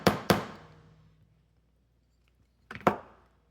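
20 gauge wire being flattened for a wire-wrapped butterfly necklace: sharp metallic hammer strikes come in two quick pairs, close and crisp with short ringing decays and a quiet pause between.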